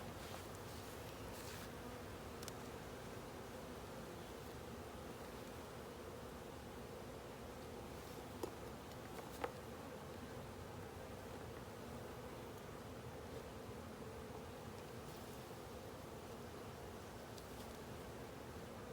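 Honeybees buzzing around an opened hive during an inspection and honey harvest, a soft continuous drone with occasional faint rustles and clicks nearby.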